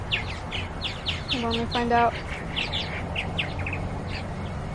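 Bird chirps and calls repeat through the clip over a steady background hum, alongside a few brief whistled notes, while a person talks briefly.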